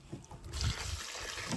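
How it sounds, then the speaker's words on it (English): Water pouring from a jug onto a cob clay mix, a quiet trickle that swells into a steady splashing stream after a brief soft start. "So I'm going to add some water to this"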